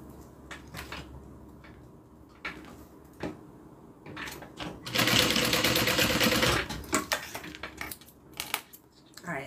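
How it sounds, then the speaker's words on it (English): A sewing machine runs in a loud, close burst of rapid stitching on a small change purse, surrounded by scattered clicks, taps and handling noises before and after. "I'm just going to do a little stitch just to keep it closed"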